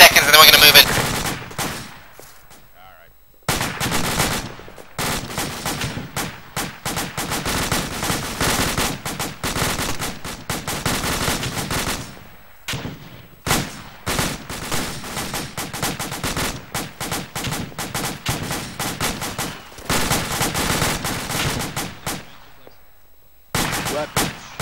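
Dense bursts of rapid automatic weapons fire and grenade launcher shots pour into a town during a hasty attack, loud and sustained with brief pauses, sharp cracking volleys stacking over one another in near-continuous waves.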